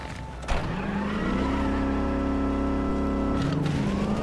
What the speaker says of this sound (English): I'm gonna summon my car.